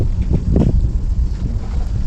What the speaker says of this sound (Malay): Angin.